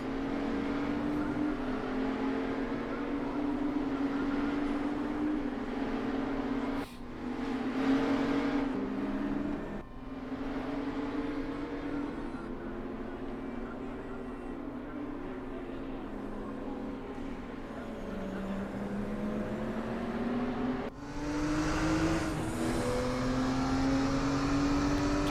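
Race car engines roar continuously in a Road America racing game, with a steady droning note that rises in pitch through upshifts and drops on braking, loud and close throughout the lap section.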